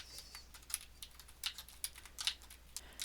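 Rapid, steady clicks of a computer keyboard as someone types, close and fairly quiet with an even rhythm.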